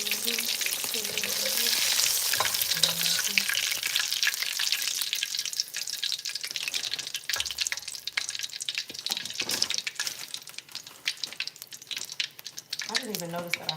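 Pieces of flour-dredged whiting fish fry in hot oil, a dense, continuous crackling sizzle that stays loud throughout, with faint clinks and a brief voice near the end.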